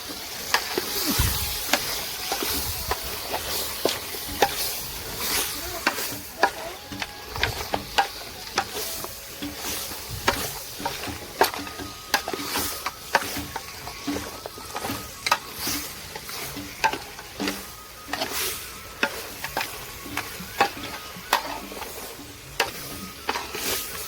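Oil frying in a cooking pot while a vegetable dish is made, a steady broadband sizzle with repeated sharp clicks and clatters of stirring throughout, close and moderately loud, no voices.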